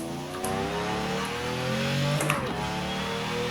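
An Aston Martin Vanquish Zagato's engine, heard from the cabin in Forza Horizon 4, revs up smoothly through rising gears with a brief shift dip, loud and continuous.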